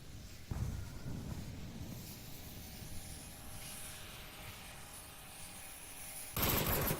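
Rapid automatic gunfire crackles through a video game match as two players trade shots, bursts running fairly loud and steady with a sharp louder burst near the end.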